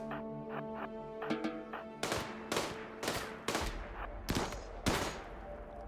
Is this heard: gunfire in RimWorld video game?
yes